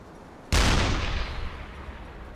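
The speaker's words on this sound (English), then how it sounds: "I think I might just put a couple more rounds into the front end of it just to make sure that she does go down" A single loud deck gun shot from a U-boat in the UBOAT game fired at a ship, a sudden sharp blast followed by a long rumbling decay.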